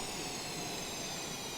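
Old F-111E Aardvark jet engines in Microsoft Flight Simulator, a steady broadband roar with a high whine, quiet and unchanging throughout.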